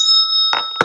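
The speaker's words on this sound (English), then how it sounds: "Let me ring the bell." A bell rung twice, the first stroke leaving a long steady ringing tone and a second sharp strike near the end, close and fairly loud with no talking.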